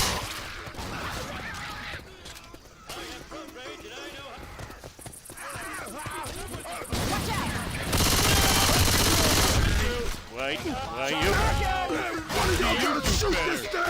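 Rapid gunfire in Left 4 Dead 2 rattles in busy bursts during a zombie fight, heaviest toward the end, mixed with game noise and loud overlapping voices talking over it.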